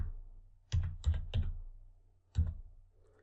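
Keys tapped on a computer keyboard, a short burst of three quick presses followed by a pause and one more, close and crisp in an otherwise quiet room.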